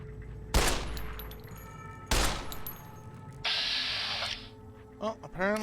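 Gunfire in the video game Fallout New Vegas: two loud, sharp shots a second and a half apart, each with a ringing tail, followed by a hissing spray-like burst and brief game sounds, no talking.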